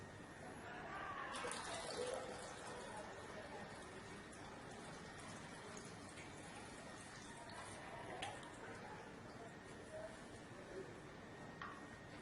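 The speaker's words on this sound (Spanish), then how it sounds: "vamos a proceder a llenar el recipiente metálico con agua" Water is poured steadily into a metal container in a lab, a soft continuous trickle with a few faint clinks along the way.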